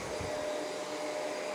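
A Shark vacuum cleaner runs steadily at close range, giving a constant even whoosh and hum with no pauses and no voices.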